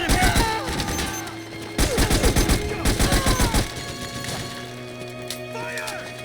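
Rapid bursts of automatic gunfire and sustained fusillades in Metal Gear Solid 4, loud and close, broken by short pauses, with shouted voices mixed among the shots.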